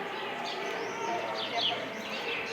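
Birds call in the early morning among trees on the Temple Mount, with faint scattered chirps over a steady wash of outdoor background noise.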